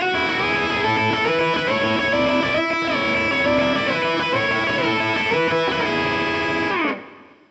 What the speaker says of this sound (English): And when you add in the high E string, it can sound like this.